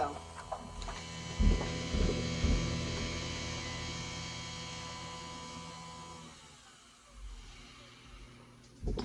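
A Nespresso Vertuo coffee machine runs with a steady electrical hum and a mechanical whir, a few clicks early on. The noise drops away near the end before a final knock, with faint talk in the background.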